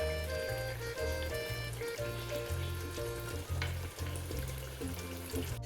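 Chicken kofta frying in a kadhai gives a steady, close sizzle with occasional soft stirring and pouring sounds, continuous throughout and with no talking.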